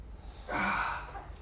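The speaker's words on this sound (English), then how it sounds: "Breathing." A single long, breathy exhale during a yoga pose, close and fairly loud, rising quickly, then tapering off over about half a second against a low room hum.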